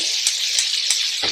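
Chicken liver and mushroom pieces sear in a hot pan, giving a steady, close crackling sizzle with a few brief sharper pops.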